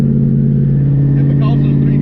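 Saleen car fitted with a T56 manual transmission idling and cruising smoothly, a steady low engine drone with someone talking over it.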